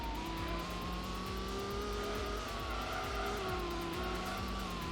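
A tuned race car in the Gran Turismo video game blips its throttle repeatedly to fight understeer, the engine note rising and falling in quick bursts over a steady loud drone, no talking.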